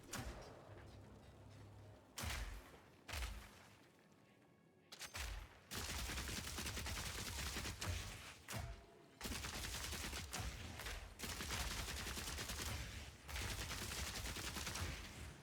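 A gun in the video game Path of Exile 2 is fired continuously until it overheats, giving dense bursts of rapid gunfire broken by short gaps, loud and close over the game's background.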